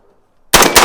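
Silence broken by a sudden loud blast of AR-15 rifle fire, with a second report close behind, both near and sharp.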